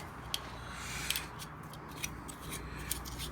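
Sticky material or tape being peeled back from the edge of a 2010 Mazda 3 door panel during a speaker swap, with a few short crisp snaps and rustles over a steady low hum, close and quiet.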